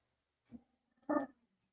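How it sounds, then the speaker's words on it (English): A pet dog gives two short, low growls close by, the second one louder and rougher, in an otherwise quiet room. "My dog growling."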